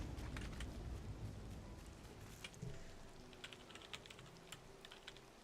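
Keys clicking on a computer keyboard in quick, uneven bursts, fairly faint beneath a steady low background hum and soft game music.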